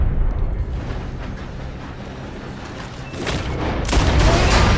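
Dynamite explosion in Red Dead Redemption 2, a loud roaring blast with rumbling debris that swells near the end, heard up close without talk.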